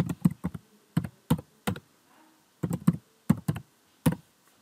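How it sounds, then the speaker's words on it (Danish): Username and password typed on a computer keyboard: two bursts of quick, close key taps in uneven clusters, with a short quiet gap between them and no voices. "skriver min adgangskode, eller mit brugernavn og min adgangskode"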